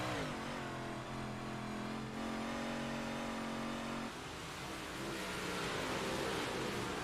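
Onboard a Schwartzlander Motorsports race car driven by Jeff Kemp, the engine drones loud and steady at high revs, its pitch holding then dropping at a shift before climbing again, with no talk over it.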